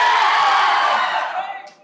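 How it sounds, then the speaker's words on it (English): A hall full of students shouting and screaming together in a loud sustained roar that swells and then tails off. "Can you scream and shout like that?"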